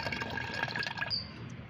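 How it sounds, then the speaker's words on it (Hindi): Homemade peel fertilizer liquid being strained, a steady close pouring and trickling of liquid through a strainer that thins to a few drips at the end. "अब हम इसको छान लेते हैं। इसे हमें अच्छी तरह से छानकर फिर डाइल्यूट करना है।"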